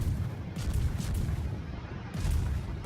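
Destroyer main guns in World of Warships firing in heavy booming salvos, deep rumbling blasts rolling one into the next over a couple of seconds, loud and close with no voices.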